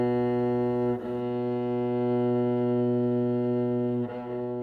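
A bowed cello plays a sustained B on the G string with the third finger, a rich, steady tone with two brief bow changes.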